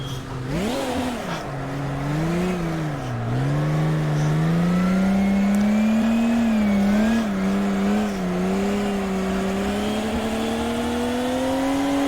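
A car engine in a VR driving game revs steadily through a drift, its pitch swooping up and down before holding a high, sustained whine, loud and continuous with no talking.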